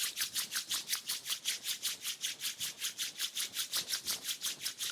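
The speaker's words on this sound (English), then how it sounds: "Rub your palm against each other. Generate some warmth." Palms rubbing briskly together to generate warmth, a rapid, even back-and-forth swishing repeated about twenty times, close and soft, with no talk.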